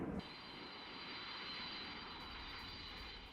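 Military aircraft fly overhead with a sustained airplane engine roar, a steady broadband drone with a thin high whine that stays even and moderately distant after a brief opening thump.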